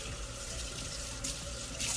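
Water runs steadily from a tap while a Camelbak bottle is washed, a constant close splashing hiss with brief brighter bursts as the flow hits the bottle.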